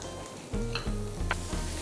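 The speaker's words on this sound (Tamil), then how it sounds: "இந்த வெங்காயம் வதங்கிட்டு இருக்கும் போதே" Onions sizzling in a hot pan, a steady frying hiss broken by rhythmic scraping of a spoon stirring, with a couple of light metallic clinks.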